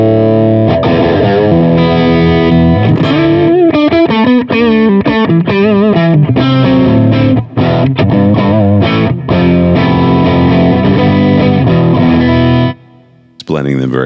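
Loud electric guitar played through parallel-blended effects pedals, sustained distorted chords and sliding modulated notes ringing continuously for about thirteen seconds before cutting off abruptly.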